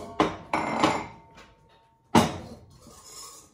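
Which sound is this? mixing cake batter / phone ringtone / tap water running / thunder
mixing cake batter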